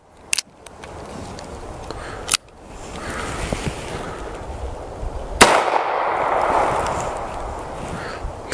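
.38 Special 150 grain Winchester lead round nose rounds fired at a car hood outdoors: three sharp, loud gunshot cracks spaced a few seconds apart, with a brief metallic ring after the last, over light background ambience.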